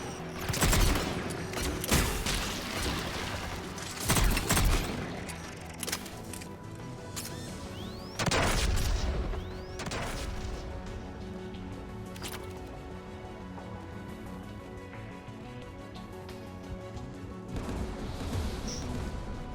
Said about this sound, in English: AA guns ahead of us.